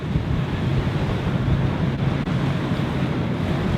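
High sea waves surge around a mackerel fishing vessel and its carrier boat, a loud, continuous roar of churning water and wind buffeting the microphone, with no voices.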